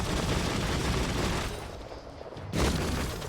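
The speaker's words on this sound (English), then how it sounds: "I guess it's like an automatic rifle, but it's more like a machine gun, really." Biomutant automatic rifle firing like a machine gun, a dense, continuous rattle of rapid shots that drops back briefly and then surges again.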